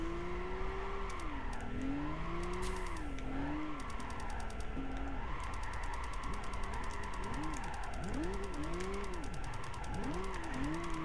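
A Pontiac GTO Twin Turbo drifting in Gran Turismo 5, with a continuous engine roar that rises and falls in sweeping revs, plus tire squeal, through the whole stretch.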